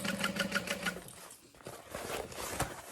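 A sewing machine stitches a Divina tote bag in a close, rapid rhythmic burst of about a second, followed by quieter handling noises and faint stitching.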